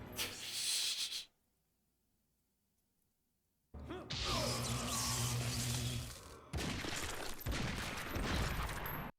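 Gunfire from a gun-themed Mortal Kombat 9 or Mortal Kombat X fatality: a loud burst of rapid shots, then about two seconds of near silence, then roughly five seconds of dense, continuous firing and impacts.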